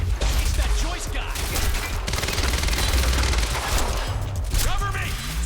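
Suppressing gunfire in the video game Quantum Break: continuous loud, close bursts of automatic fire with mechanical clatter, under shouted voices.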